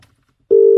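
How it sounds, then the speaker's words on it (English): A phone call placed over a car's Bluetooth starts ringing: a steady, loud electronic ring tone sounds after a brief quiet stretch and holds without a break. "I said I'd give him a ring on my Bluetooth. Hopefully it works. There we go. It's ringing."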